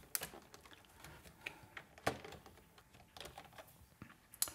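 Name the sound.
pressing keys on a German computer keyboard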